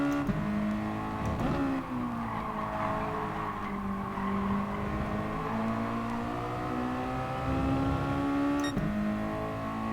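Race car engines roaring continuously in Gran Turismo Sport during a close Nations Cup online race, steady loud revving with shifting pitch as gears change, no voices present.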